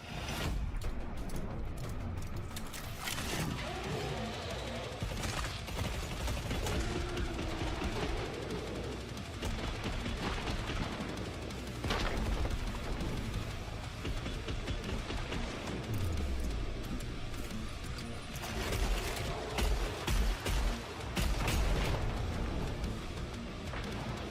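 Gunfire from real-world weapons in a zombie-shooting video game trailer: rapid bursts and shots keep going across the scene, mixed with loud action sounds and a voice talking over parts of it.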